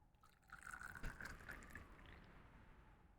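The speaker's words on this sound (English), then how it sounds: "he's pouring liquid. He's pouring a drink" Liquid pours into a drink in the RPG Maker MZ game The Dreamchaser: a soft, brief trickle and splash lasting a few seconds, fairly quiet, with a faint tonal ring rising as the glass fills.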